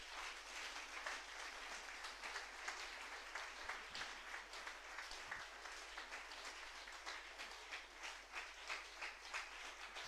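A church congregation claps continuously for about ten seconds, steady and moderately distant, with dense overlapping handclaps.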